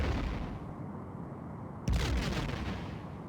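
A torpedo hit in a Star Trek starship combat game bursts as a sudden loud explosion over a steady low engine-like hum, followed by a crackling rumble.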